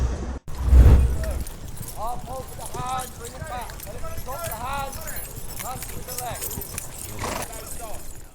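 Household Cavalry troopers' horses clip-clop through Hyde Park in London while rehearsing for the Royal Windsor Horse Show, a steady rhythm of many hooves at moderate distance with a narrator talking over it.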